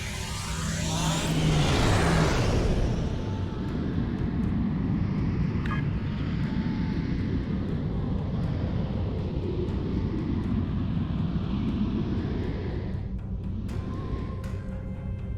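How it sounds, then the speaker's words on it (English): A starship's warp engines engage in Star Trek Online with a rising whoosh that settles into a loud, steady, roaring engine hum sustained throughout. "Warp engines all ahead flank"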